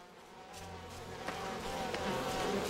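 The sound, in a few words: buzzing bees in We Happy Few video game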